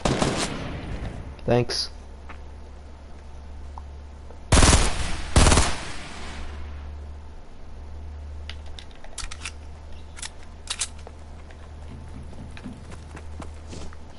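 Gunfire in the video game Fortnite during a solo tournament match: a couple of loud close shots mid-way among sparse distant pops and scattered clicks over a low steady hum, with someone speaking briefly.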